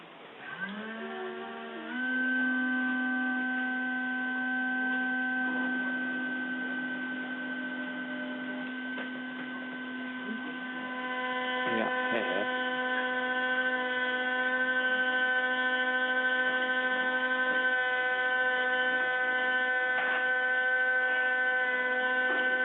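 A CNC milling machine carving a wax ring model, with a steady electrical hum and whine that holds for the whole stretch and small shifts partway through, with no voices.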